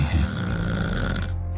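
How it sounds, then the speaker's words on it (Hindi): Loud snoring from a sleeping elderly man in his room, a single drawn-out rumbling snore held steady for under two seconds before cutting off. "बाबूजी के कमरे से जोर जोर से खर्राटों की आवाज आ रही है"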